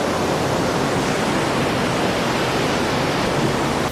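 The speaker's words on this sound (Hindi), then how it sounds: "यमुना नदी" The Yamuna river near Yamunotri rushes in a steady, dense roar of flowing water, constant and unbroken with no voices.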